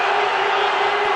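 Cricket crowd at the Pakistan vs India ICC Champions Trophy final roaring and cheering for Pakistan after a double wicket, a dense, loud, continuous wall of voices.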